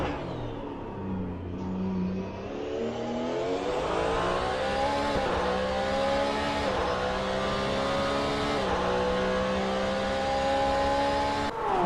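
A Porsche 911 GT3 992 race car in a sim racing game at Long Beach, heard from on board as its engine howls and climbs through the revs, with quick upshifts and sustained high-pitched drive throughout.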